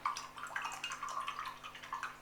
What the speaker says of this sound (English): I'm going to rinse off all this slip again in the water pot.